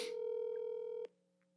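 Phone tones from a handset calling a hospital emergency room: a steady, clear dial-style tone for about a second, then a soft click and a fainter lingering tone.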